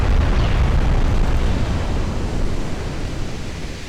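13-inch naval shells explode in Ultimate Admiral: Dreadnoughts as a loud, dense, continuous roar of blast noise that slowly fades, with no speech.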